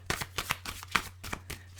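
Tarot cards riffle and slap in quick bursts of crisp papery flutters, about a dozen close snaps in under two seconds over a low steady hum.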